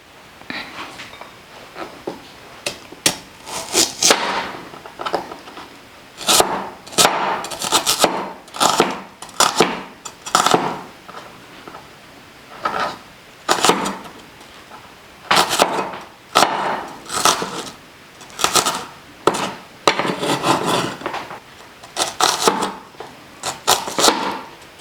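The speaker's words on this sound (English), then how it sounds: "tell me how you chop your onions, how you chop your tomatoes when you're doing an omelette" A knife chops onions and tomatoes on a board for a bread omelette, with irregular clusters of quick, crisp cutting strokes close up over nearly half a minute.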